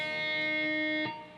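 Open high E string on an electric guitar, one picked note ringing out alone and clearly, then decaying toward the end.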